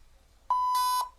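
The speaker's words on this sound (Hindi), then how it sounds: "बीप" A single steady electronic beep from a Filmora 9 video editor sound effect, one clean tone held for about half a second in a quiet background.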